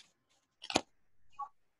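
A plastic carry bag is squished by hand, giving one short, close crinkling burst, followed by a fainter rustle.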